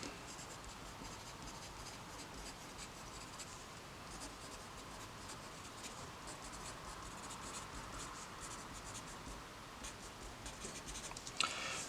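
Algebra notes are written by hand to fill in a chart, giving a faint, continuous scratching of pen on paper with no voices, ending in a small tap.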